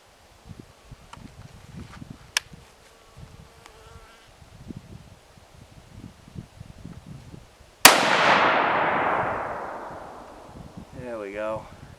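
A single .308 Winchester shot from a Remington 700 SPS rifle with a factory barrel during an outdoor accuracy test: one sharp, loud crack with a long, fading echo, after faint insect buzzing, with a brief voice afterward.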